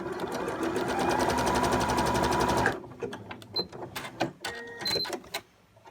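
A sewing machine stitching a zigzag test on fabric runs in one fast, steady mechanical burst for nearly three seconds, then stops and gives way to scattered clicks, taps and faint handling noises.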